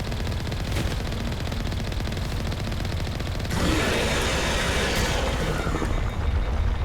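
Sustained rapid gunfire in Mass Effect, a dense, loud rattle of automatic shots that grows heavier partway through.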